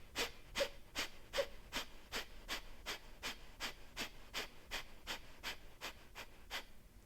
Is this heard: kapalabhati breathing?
yes